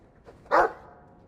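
A single short, loud dog bark sounds in the Dragon Age II video game, a close, sharp yip-like woof standing alone after a faint lead-in.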